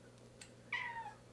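A house cat gives a single short meow, fairly faint, in a kitchen where a grilled cheese sandwich is being cooked, preceded by a soft click against a quiet background.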